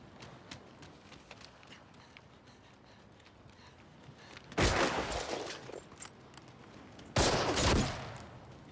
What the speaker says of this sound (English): Damn, nice shot, Shifty.